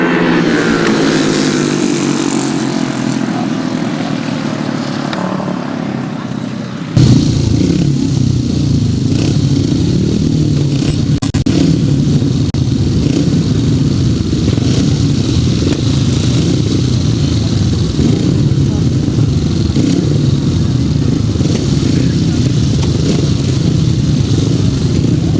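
500cc sidecar outfits racing away in a grasstrack heat, a loud pack of engines roaring and revving together close by, with clattering and scraping, after a quieter buildup that cuts sharply into the full race noise.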